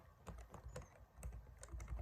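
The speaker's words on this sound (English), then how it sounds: "I just want to type something in real quick." Quick bursts of typing on a computer keyboard, a run of light clicking keystrokes with short pauses, close and fairly quiet against a low background hum.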